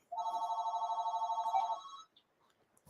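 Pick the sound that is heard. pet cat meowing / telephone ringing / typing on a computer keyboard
telephone ringing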